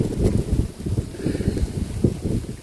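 Gusty outdoor wind buffets the microphone in low rumbling bursts, loud and irregular, with no voices heard.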